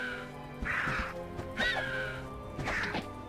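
Birds from the game Might and Magic VII caw harshly while attacking, three loud raspy calls in quick succession over a low game-ambience hum, with dull impact thumps mixed in.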